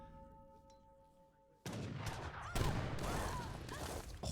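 Cannon bounce shots and falconets firing in an Age of Empires III battle, a sudden loud burst of overlapping booms and impacts after a quieter stretch, continuing as dense, rolling gunfire to the end.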